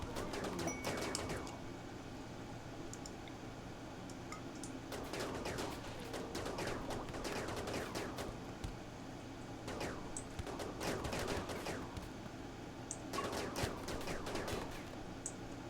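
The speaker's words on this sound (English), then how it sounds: "Chain shotgun." Rapid chain shotgun gunfire in the video game Rimworld, several quick bursts of repeated blasts separated by short gaps, fairly faint against a steady background.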